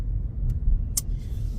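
Steady low rumble of a 2020 car cruising along a road, heard from inside the cabin, with a brief hiss near the middle and no talking.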